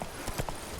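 A horse in The Witcher 3 gallops with a few quick, close hoof clip-clops over a steady game background. The horse is having trouble running.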